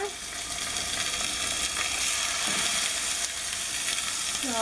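Salmon searing skin side up in half a tablespoon of vegetable oil in a pan on medium-high heat, producing a loud, constant, bright crackling sizzle up close, with a brief spoken word near the start.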